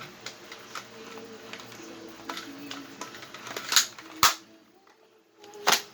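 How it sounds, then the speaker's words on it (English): An Adventure Force Aeon Pro dart blaster, modified with a 10-inch barrel and tuned breech, plunger tube and plunger rod seal, fires over a chronograph: soft mechanical clicks build to three sharp, loud snapping shots, close up. "first shot over the Chronograph, modified with 10-inch barrel and tuned breech barrel and plunger tube and plunger rod seal"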